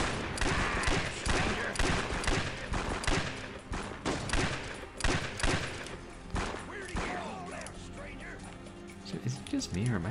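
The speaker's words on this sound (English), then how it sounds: "Is it just me, or are my bullets, like, not hitting them or something?" Rapid volleys of gunshots and bursts of gunfire in a western outlaw video game, loud and dense throughout with sharp repeated cracks, while a voice talks over the shooting.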